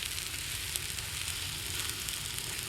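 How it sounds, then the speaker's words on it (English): Stir-fry sauce sizzles steadily in a hot pan as it is stirred, a continuous close hiss with a soft low rumble beneath it. "Add the sauce. Give it a good stir."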